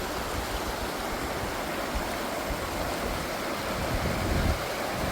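A river rushes steadily past, a dense, even wash of flowing water at close range, with no voices.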